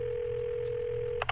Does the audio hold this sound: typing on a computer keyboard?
no